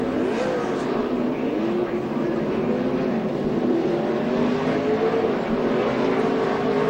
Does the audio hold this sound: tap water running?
no